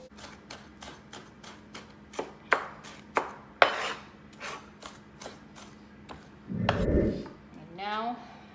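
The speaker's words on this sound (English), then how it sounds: "And now I'm gonna chop my. Why is it so many tomatoes?" Knife chopping Roma tomatoes on a board: a steady run of about sixteen sharp, close taps, then a lower rustle and scrape as the pieces are moved.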